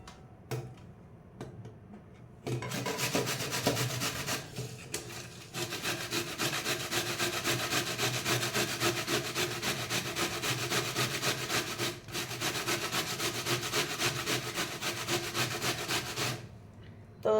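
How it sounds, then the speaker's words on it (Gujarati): Cabbage rubbed against a small hand grater in a home kitchen, a steady, fast scraping rasp that runs on continuously for many seconds after a few hesitant strokes, close and fairly loud, with no talking. "તો આપણે એવી રીતે કોબીજને છીણી લઈએ"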